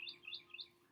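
Three quick high bird chirps in a steady rhythm, faint and a little distant, against a soft outdoor background.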